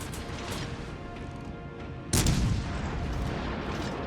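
Naval gunfire from an enemy cruiser in World of Warships Legends, a single heavy boom landing midway through a steady rumble of ship noise, with a brief louder burst that fades back into the continuous background.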